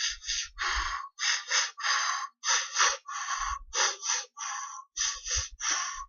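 A man imitates a woman's labor breathing in childbirth with a rhythmic series of about ten quick, forceful panting breaths, close and alone, each separated by short gaps.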